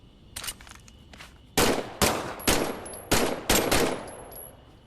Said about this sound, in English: why don't you test fire your weapon?